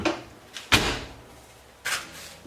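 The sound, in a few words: pop-up camper half door sliding into its channel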